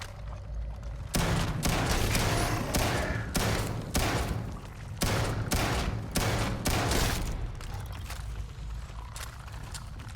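Sci-fi gunfire in the video game Starfield, a dense run of rapid repeated shots in close bursts with short pauses, loud and steady with no talking over it.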